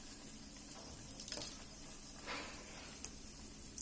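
Sabudana vadas fry in a pan of oil until golden brown on both sides, giving a quiet, steady sizzle with a few soft pops and stirring sounds.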